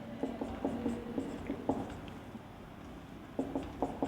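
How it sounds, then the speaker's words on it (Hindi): Chalk or marker writing an equation on a classroom board, a quick series of short taps and scratchy strokes in bursts with a pause between, close and fairly quiet. "इसको मैं साइड में लिख रहा हूँ"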